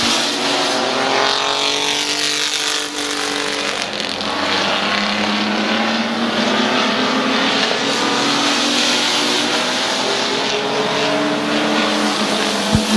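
Race cars run the white flag lap on the Midvale Speedway oval, engines roaring loud and close with rising and falling pitch as cars pass and accelerate, a continuous pack sound without talk.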